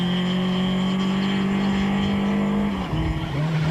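A VW Polo rally car climbs a long uphill rally stage, engine droning at a steady high pitch before shifting and dropping, loud and sustained, with no talk.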